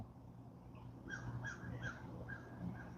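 A bird, crow-like, gives a series of short harsh calls outdoors, fairly faint against a low background hum.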